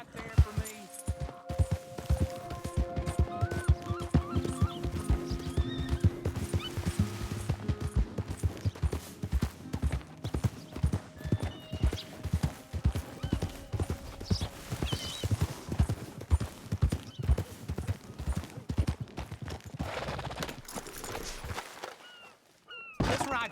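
Horse hooves clip-clop in a steady, quick rhythm as riders travel together in Red Dead Redemption 2, continuing close and prominent for most of the stretch with occasional thunks, then briefly dropping away near the end.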